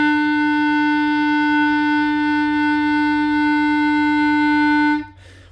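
A beginner-band clarinet holds a single steady note E, loud and alone for about five seconds before it cuts off abruptly.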